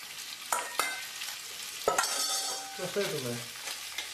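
Pasta tipped into a frying pan with already sautéed ingredients sizzles under scraping stirs and a few sharp utensil knocks, with a brief voice speaking.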